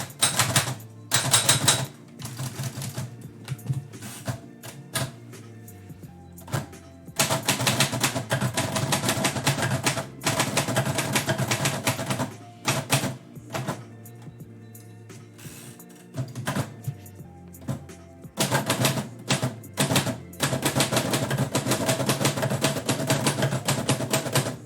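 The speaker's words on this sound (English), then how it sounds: "peck away on the typewriter" A typewriter worked steadily for a long stretch, dense bursts of rapid key strikes broken by brief pauses, close and clear with no talking.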